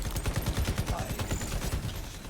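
Rapid automatic weapon fire in the online shooter Shatterline during a league match, a steady stream of quick shots with a commentator's voice running underneath.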